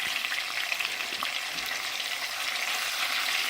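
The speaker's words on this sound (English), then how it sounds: "We're going to turn these sausages over." Sausages fry in bacon grease in a pan as they are turned over, a dense, steady crackling sizzle close up with faint scraping under it.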